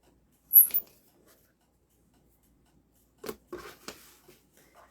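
Fabric squares, cut to 2.5 by 2.5 for hand-quilted shirt applique, snipped with scissors in a few separate bursts: one near the start, then a cluster of quick crisp cuts later, quiet between.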